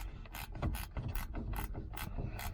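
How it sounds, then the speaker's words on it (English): Ratcheting wrench backing out a screw inside a Chevrolet G20 van door in a cramped space, a close, busy run of rapid clicking pawl strokes repeating in short bursts. "if you do it with a ratcheting wrench"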